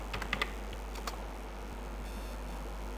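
Typing a router command on a computer keyboard during a networking configuration session: a brief burst of close, quick key clicks at the start, followed by a faint final keystroke and quiet room hiss.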